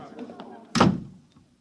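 An office door slams shut with a single loud, heavy bang in a radio drama, standing out sharply against quieter voices before and after.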